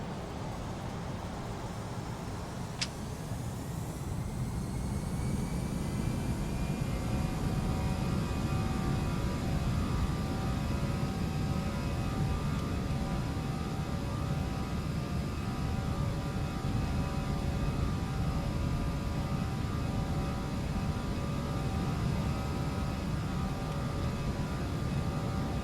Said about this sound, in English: Taking off out of Nice, heading for Ibiza.